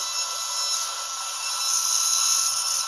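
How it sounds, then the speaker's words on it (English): A dental drill whines steadily during a tooth extraction at an oral surgeon's office, a continuous high-pitched hum that rises slightly in loudness toward the end. "Now I'm going to take my drill."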